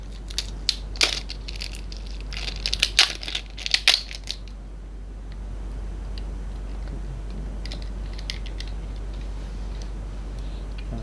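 Plastic being opened on a Realme C11 phone during an LCD screen replacement: a quick run of close crinkling and crackling snaps in the first few seconds, then a quiet background with a few faint clicks.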